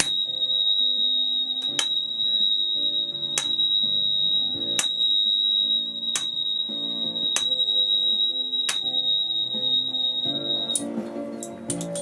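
A tuning fork sounding the note B rings on for about eleven seconds, pure, high, sustained and even, with faint background sounds and a few sharp clicks beneath it.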